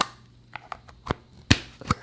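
The lid of a Heya Sensitive Cooling Shaving Gel container gives a series of sharp plastic clicks and taps, close and distinct, with the loudest snaps near the end.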